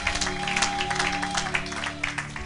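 A church congregation applauds in a dense patter of claps, moderately loud and sustained, with a steady musical drone underneath.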